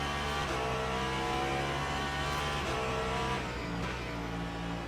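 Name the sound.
race car engine while driving, from video game Le Mans Ultimate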